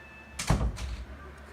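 An ordinary room door is pushed shut at home, giving one close thump with a brief rattling knock after it. The sound is fairly quiet against a soft background.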